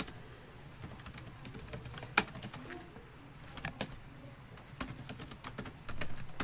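Rapid, irregular keystrokes on a computer keyboard while Java code is being written, close and fairly quiet, with occasional louder key hits and no voice.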